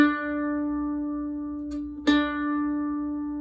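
An open D string bowed on an orchestral string instrument for tuning, one long sustained tone held alone with a short break partway through.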